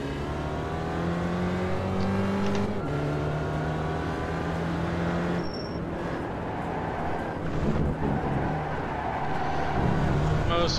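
A race car's engine drones steadily at Donington Park just after the motor has blown. The hum is constant and fairly loud, and a voice talks over it.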